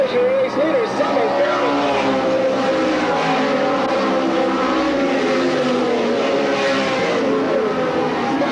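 Race cars roar out of turn 4 at Sandusky Speedway in a 1985 race, a dense, continuous engine drone with shifting pitched whines from several cars under a commentator's steady voice.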